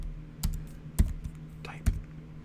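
Soft keyboard keystrokes tap during a coding session, a few separate clicks spaced about half a second apart over a quiet hum, close and gentle.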